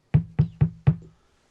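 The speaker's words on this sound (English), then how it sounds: "And you hear a knock on the door." Four sharp knocks on a door in quick succession, close and loud, each a short thud with a brief decay, followed by silence.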